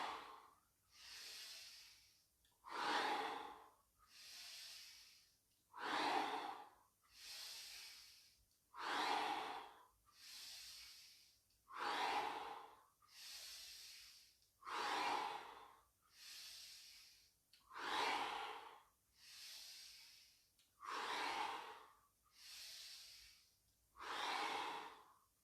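Slow, deep breaths during a seated grounding exercise, about nine full inhale-exhale cycles in steady rhythm, each breath a close, airy rush rising and falling with short pauses between, alone without talk.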